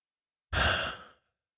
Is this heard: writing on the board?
no